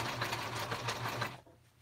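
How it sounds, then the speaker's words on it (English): Sewing machine running a zigzag stitch across a small piece of napkin fabric, a steady rapid mechanical chatter close by for over a second before it stops and fades to quiet. "I like to sew a little straight and then do a little zigzag stitch on it"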